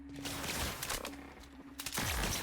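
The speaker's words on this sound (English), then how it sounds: "No, stop shooting me" Gunfire from a security patrol in the video game The Outer Worlds, a rapid burst of crackling shots at moderate distance, with a steady tonal hum under some of the firing.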